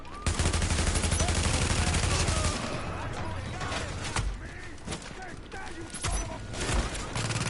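Dense, rapid automatic gunfire from a firefight in the video game The Division, a near continuous volley that thins into scattered bursts and single shots, with voices partly over it.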